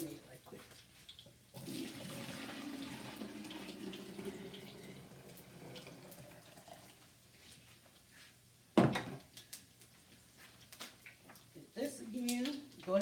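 Lemonade pours into a glass in the kitchen with a steady liquid trickle running for several seconds, followed by clinks and handling noises, while a person talks throughout.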